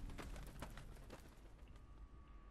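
A pigeon or dove coos in Fallout New Vegas, a few soft, low calls close by at a quiet level, with faint rustling and no talking.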